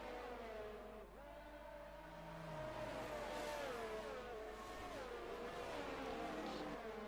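Race cars from a racing video game, Saudi Grand Prix at Jeddah, run slowly in line behind the safety car. A steady engine drone rises and falls in pitch with gear changes, loud and continuous, with no voices.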